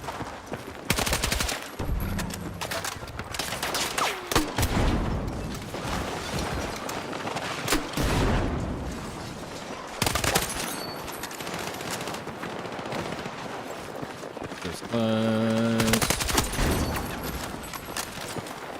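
Dense automatic gunfire and rapid bursts from the video game Battlefield 6, loud and continuous with overlapping shots and a few sharp blasts throughout.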